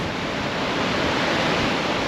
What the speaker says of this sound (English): Here's where the water's breaking over the rocks.